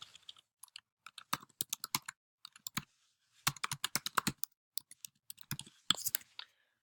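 Computer keyboard typing in quick irregular bursts of crisp clicking keystrokes, close and distinct, separated by short pauses in an otherwise quiet room.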